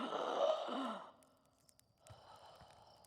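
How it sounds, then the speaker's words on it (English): A character in the Outer Wilds video game gasps on waking: a single breathy, sighing intake of air, fairly quiet, followed by faint ambient game tones. "Those gasps, I don't know how loud they are in the video, but I swear they're getting more desperate"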